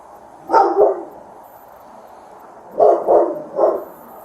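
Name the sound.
dog barking inside the house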